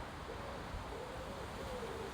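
A bird hoots softly several times at a low pitch, faint and partly buried under steady broadband background noise, with no talking.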